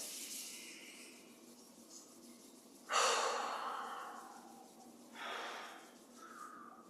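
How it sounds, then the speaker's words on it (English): Slow, deep breaths with palms rubbing together, a few soft airy swells of inhaling and exhaling, close and quiet, with no talking. "Rubbing the palms together. Breathing."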